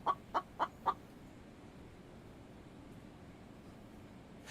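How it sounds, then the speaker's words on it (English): Chicken in a survival video game giving four quick, evenly spaced clucks at the start, fairly close, then faint background noise. "Dude, there's a chicken there now."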